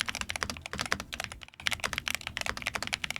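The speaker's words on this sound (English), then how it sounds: "It's got PBT keys and some really satisfying switches to click on." Rapid, dense typing on a Corsair Galleon 100 SD keyboard with PBT keycaps and clicky switches, steady close-up keystrokes with a brief pause midway, no talking.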